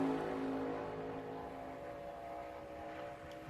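A Ford Mustang NASCAR Xfinity race car on a qualifying lap drones at high speed, a steady, sustained engine roar heard from a distance without any voices.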